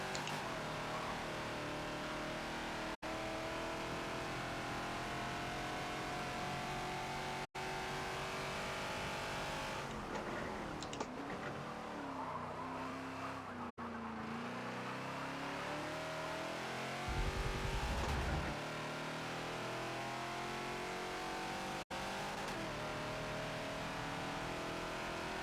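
A Ford Falcon XB in the Forza racing game at Homestead Road Circuit, its engine roaring steadily at high revs throughout, with brief dips and shifts as it lifts and gets back on the throttle, plus a faint tire squeal near the end.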